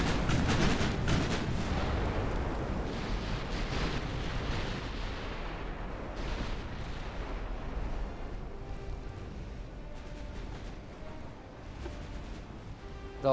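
Naval guns firing in a dreadnought-era sea battle in Ultimate Admiral: Dreadnoughts, a heavy continuous roar of booming salvos and rumbling blasts, loudest at the start and rolling on steadily without talk.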